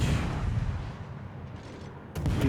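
Guns of the Kléber destroyer firing in a warship video game: a heavy booming blast that rumbles and fades, followed near the end by another sharp, loud report.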